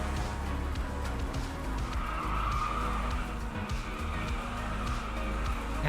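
A CAN-AM series race car in a video game understeers and skids, with a continuous loud engine drone and a tire scrub running steadily through the whole stretch, and no voices over it.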